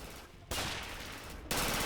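A Russian soldier fires on the player in the World War II shooter Red Orchestra: Ostfront. Two abrupt bursts of dense, loud gunfire each start sharply and sustain as a broad roar.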